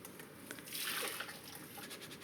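Blanched rice is poured into a strainer to drain, a short rush of splashing water swelling in the middle and trickling off, close and fairly soft.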